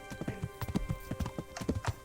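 Horse hooves clip-clopping on a path in the video game Kingdom Come: Deliverance, a quick, even run of hoof strikes heard up close.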